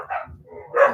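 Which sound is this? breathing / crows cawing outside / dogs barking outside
dogs barking outside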